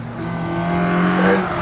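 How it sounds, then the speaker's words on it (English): The number 69 Renault Clio race car, driven by Aaron Harding and David Slater, crosses the start-finish line in a trackday championship qualifying session, its engine note rising in a loud, close, sustained drone that peaks as it passes. "Number 69 Renault Clio over the start-finish line, looking to try and improve"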